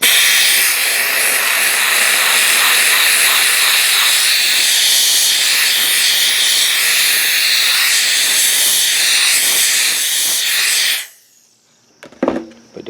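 Wagner Spraytech SteamMachine blasting steam onto car plastic, a loud continuous close hiss for about eleven seconds, then shutting off and leaving a few faint clicks and knocks.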